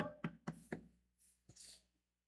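Three sharp knocks on a wooden house door in quick succession, then a pause and two softer, duller raps, close and clear with no voices.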